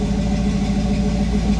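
A Chevrolet C10 truck engine with an overheating problem settles into low idle, its steady, even rumble running loud and close without a break.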